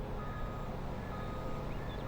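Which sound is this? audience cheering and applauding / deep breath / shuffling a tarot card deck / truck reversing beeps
truck reversing beeps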